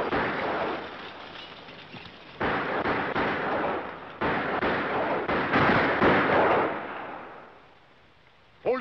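Gunfire in a 1951 western, a long heavy barrage of overlapping shots and booms that roars in waves, then fades out toward the end.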